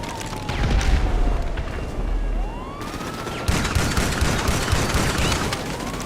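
Gunfire in GTA Online during a fight, with a dense, continuous stretch of rapid shots, loud and close, layered over a steady game backdrop and rising whines like distant sirens or engines.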